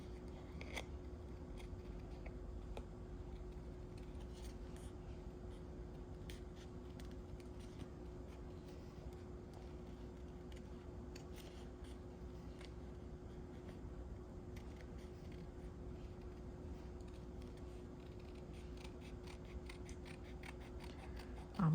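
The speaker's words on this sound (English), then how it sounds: "So we're gonna do a little bit of fussy cutting." Scissors fussy-cutting paper for a Tim Holtz paper collage: rapid, faint snips that repeat irregularly throughout over a steady low hum, close up, with no talking.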